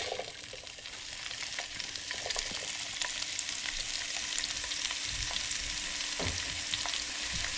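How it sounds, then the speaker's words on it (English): Bell peppers and other vegetables drop into a screaming-hot pan with extra oil and fry with a loud, continuous sizzle, with occasional stirring clatter and no voices. "I'm going to add a little bit more oil. And in goes the vegetables."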